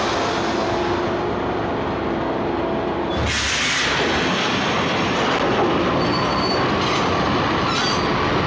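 Train rolling on rails in the Max Payne Mobile video game, a loud steady rumble with squealing wheels and clattering carriages that surges in abruptly and keeps running without voices.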